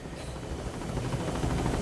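A helicopter in flight gives a steady, loud, broadband rotor and engine roar with a fast pulsing beat, heard close up from on board and without voices.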